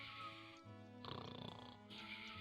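Loud, comical snoring from a sleeping character in the Final Fantasy VII Nightmare Mod, with a long nasal inhale followed by a rattling, fluttering exhale, repeated in a slow rhythm.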